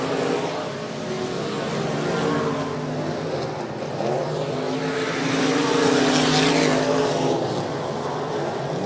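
Race cars at 105 Speedway passing the flag stand: a dense, continuous roar of engines that swells as the cars sweep past, loud and sustained.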